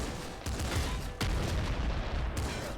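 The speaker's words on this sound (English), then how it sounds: "Auto shotgun is a great weapon for the panic mode fighting style that I mentioned." Rapid, dense bursts of auto shotgun fire from Nuclear Throne blast continuously with loud, crackling reports, pausing briefly twice before resuming.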